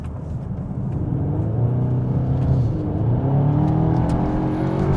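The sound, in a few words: Cupra Terramar car accelerating on a wet road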